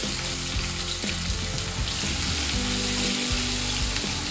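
Chopped onions going into hot oil already holding crackling mustard seeds and cumin, a loud dense sizzle that runs unbroken and close up, with no speech.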